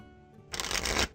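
A deck of Force of Will trading cards is riffle-shuffled close by, a short, loud burst of rapid fluttering after a quiet lead-in.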